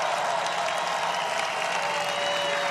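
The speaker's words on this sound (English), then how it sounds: "they're all giving you a standing ovation" A large rally crowd gives a standing ovation, a dense, steady wash of applause and cheering that holds at an even level throughout.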